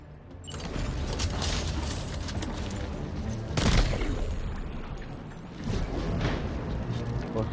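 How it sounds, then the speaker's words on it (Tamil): Gunshots from a gun in the video game Death Stranding 2, heard as bursts of sharp cracks and a heavy blast midway under a continuous mix of game sound, with someone talking throughout. "கன் அதான் ப்ரோ எடுத்து சுட்டுட்டேன்"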